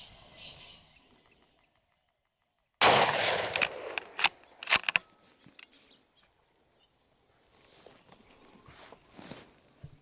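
A single sharp, loud gunshot rings out while hunting deer in a grassy pasture, followed by scattered clatter and rustling movement, with faint ambient sound and distant birds before and after.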